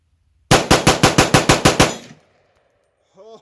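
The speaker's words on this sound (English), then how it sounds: "Let's just see how fast we can get the trigger going." A SIG MCX Rattler rifle fires about nine loud, rapid shots in an even rhythm, each crack close and sharp, followed by a brief ringing tail and a faint voice afterward.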